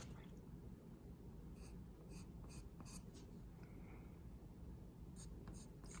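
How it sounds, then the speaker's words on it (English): Charcoal scratching and rubbing across paper, faint intermittent strokes in short bursts over a quiet room hiss. "with this charcoal, I will begin to reintroduce my drawing and finish a little bit more, everything"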